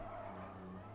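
Tyre squeal from a car drifting in Gran Turismo Sport, a sustained pitched skid over a droning engine, steady and close throughout the short burst.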